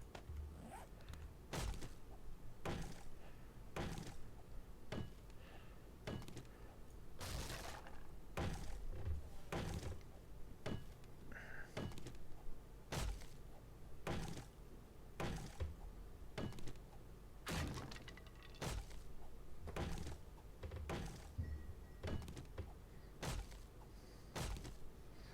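A fire axe chopping at a door in 7 Days to Die, heavy thudding blows landing at a steady pace about one per second, repeated over and over in the open with faint background ambience and no talking.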